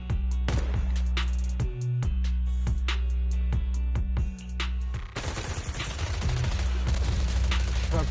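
Rapid bursts of gunfire and sharp shots from the video game Zenless Zone Zero over a constant low droning hum, with a louder, denser volley of fire in the second half.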